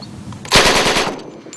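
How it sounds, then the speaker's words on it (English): Rapid automatic gunfire from the Venture crew's primary gun, recorded outdoors among hills for King Kong: a sudden loud burst of fast repeating shots that rings out for about a second, then decays into echoing tail. "Primary gun used by the Venture crew."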